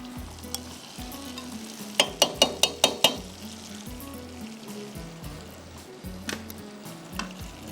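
Marinated chicken pieces frying in a hot pan, a steady close sizzle with a burst of about six sharp spoon or spatula clacks against the pan partway through, then continuing crackle and occasional stirring knocks.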